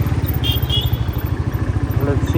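A motorcycle engine runs at a steady, throbbing idle-to-cruise pulse close by at the start of a solo bike ride from Hyderabad to Hampi, with a faint voice over it.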